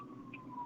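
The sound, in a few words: ambulance siren passing by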